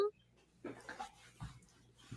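A small female dog makes soft whimpering, breathy whines in a few short bursts, close by and quiet, with faint background noise between them.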